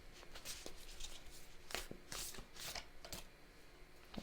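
Tarot cards are shuffled and drawn close by in a quiet room, a run of soft riffling bursts and papery slaps with irregular taps and flicks between them.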